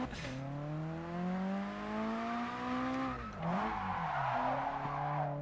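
Engine harmonics of a JDM car sweep upward through a drift, then dip and break into broadband hiss as the tires squeal and skid near the end; steady, fairly close, no talk.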